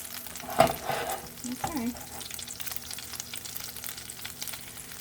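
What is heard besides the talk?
tuna patties frying in a pan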